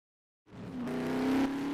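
A fast car powers up from silence, its engine note rising steadily in a loud, close acceleration with a faint tire whine, no one speaking.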